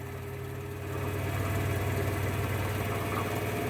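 A wood lathe turning a small workpiece speeds up gradually, its steady motor hum and whir rising in level after the first second and then holding steady, close and continuous with no talking.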